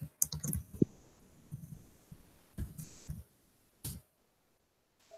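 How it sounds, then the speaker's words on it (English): Scattered key clicks on a computer keyboard, a few quick taps in a cluster followed by sparse isolated clicks and pauses in a quiet room, no talking. "And I'm just typing in response."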